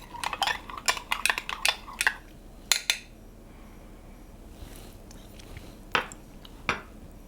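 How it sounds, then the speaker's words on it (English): Wheat berry salad with apple and walnuts being tossed in a bowl, a quick run of clinking utensil knocks and scrapes against the dish, then a quieter pause broken by a few more scattered taps, close up without talk. "And now I am just mixing this all together"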